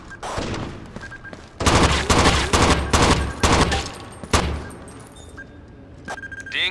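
Rapid bursts of automatic gunfire in the tactical shooter game Rainbow Six 3 on the original Xbox, loud and dense volleys with brief pauses, followed by a few single shots and beeps as the firing dies down.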